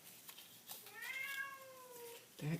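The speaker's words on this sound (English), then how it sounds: "That cat is not going to stop." A cat meows indoors with a long, drawn-out, wavering cry in the middle, followed by a short, sharp yowl at the end, heard fairly close against a quiet room.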